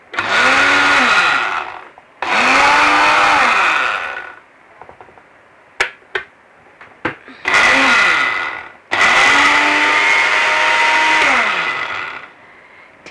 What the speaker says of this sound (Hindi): मैंने लिया सिर्फ तिल और चीनी, हम वज़न लिया और उसको मैं अच्छी तरह मज़ीद पीस रही हूँ।